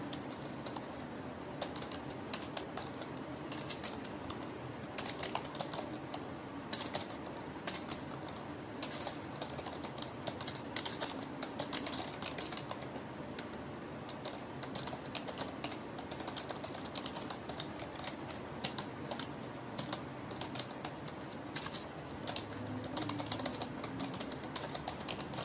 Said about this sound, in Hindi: फिर भी हम प्रयास कर रहे हैं कि इसमें जो है अच्छे से टाइपिंग किया जाए